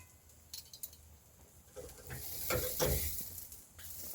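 Steak frying in a hot pan, a soft sizzle that swells louder midway with stirring and a few light clinks, fairly quiet and close, no voices.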